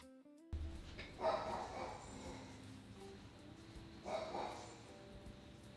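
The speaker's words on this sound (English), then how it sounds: "My dog's freaking out because the garbage man is outside." A dog barks indoors at the garbage man outside, giving two short bursts a few seconds apart. The barks sound muffled and somewhat distant over quiet room noise.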